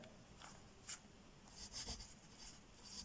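A pen forms shorthand strokes on paper, a few short scratchy scrapes and taps spread across a quiet stretch, close and soft with no voices.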